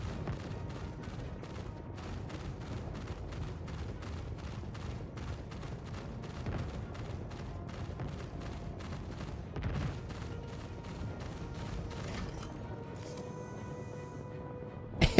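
A Star Citizen ship weapon fires rapid, evenly spaced shots in a long sustained volley, loud over a rumbling background, with a brief louder burst at the end.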